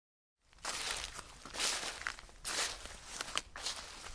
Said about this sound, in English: He could hear the footsteps again.